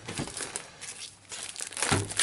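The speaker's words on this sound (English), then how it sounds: "Just going to cut this open so I can get them out of their shrink wrap prison." Plastic shrink wrap crinkles and crackles up close as it is cut open and peeled off a Magic: The Gathering – Arena of the Planeswalkers board game box, a loud, continuous rustle.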